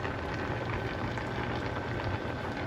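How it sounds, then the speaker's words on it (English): Spaghetti noodles boil in a pot on a home stove, a steady dense bubbling hiss that runs unbroken and fairly close throughout. "We have our spaghetti noodles cooking too."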